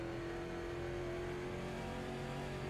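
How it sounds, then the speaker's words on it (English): A race car engine in a NASCAR late model race in iRacing drones steadily, held at a strained, constant pitch with a rough, labored tone, loud and continuous, with no talking. "I can feel the motor starting to go"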